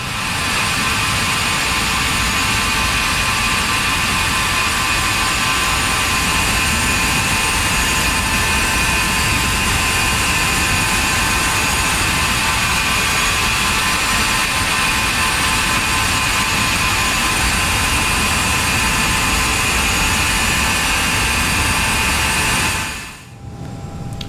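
Steady, loud jet engine whine and roar from a Carenado FA50 trijet taxiing in the Prepar3D flight simulator, a continuous drone with sharp tonal layers that holds level before cutting off abruptly near the end.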